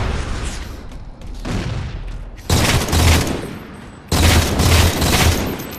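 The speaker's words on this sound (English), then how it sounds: "mid-range BR fight there. I'm just trying to get the angle. I noticed that I'm being shot from top centre" Battle rifle fire in Halo 4 multiplayer, two loud sustained bursts of shots near the end following quieter distant firing, with no talk over it.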